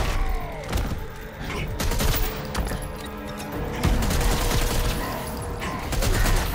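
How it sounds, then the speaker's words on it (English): Rapid bursts of missile and gunfire-like explosions from a fight in the video game Injustice 2, dense, loud and continuous, with thumps and booms layered throughout. "sometimes random missiles will shoot on you while you're fighting"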